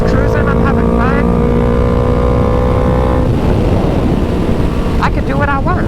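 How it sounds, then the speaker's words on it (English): A motorcycle cruising at about 60 in sixth gear on a night ride makes a loud, steady engine drone with heavy wind rumble, its pitch shifting once midway, while a voice speaks briefly over it. "I'm gonna be able to shift through every single gear while going a moderate speed"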